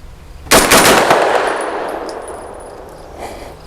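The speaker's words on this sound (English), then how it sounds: "Man, I'm still just taken by how smooth this is shooting." A single sharp shot from an Extar EP9 Gen 2 pistol firing 9mm rounds cracks loudly and close, then a ringing tail decays over a few seconds.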